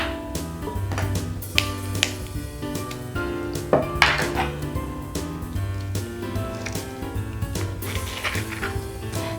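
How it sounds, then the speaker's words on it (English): Avocado mashed in a bowl, heard as quiet, repeated soft squishes and light clinks of a utensil against the bowl, in an irregular rhythm with no talking. "So I usually like to scoop mine in the bowl, then mash it"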